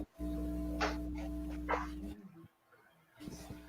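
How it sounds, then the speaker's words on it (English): A dog barks and whimpers close by in short bursts with gaps between them, while a low background hum runs underneath. "I'm just going to let the dog in"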